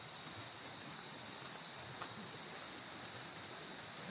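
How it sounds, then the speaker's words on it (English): A small clean river at Pagudpud runs as a steady, even wash of flowing water, continuous and moderately distant with no other clear sounds. "We're gonna cross the small river."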